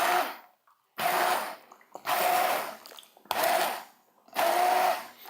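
An immersion blender whirs through butternut squash in a pot in four loud, close bursts of about a second each, separated by short pauses.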